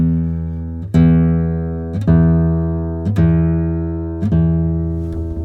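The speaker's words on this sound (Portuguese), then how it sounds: "E agora eu vou tirar esse harmônico do som, voltando com o meu dedo em cima da 19ª casa." An acoustic guitar string rings a bright harmonic at the 19th fret four times in a steady rhythm, each note struck clearly and left to decay before the next, close and loud with no talking.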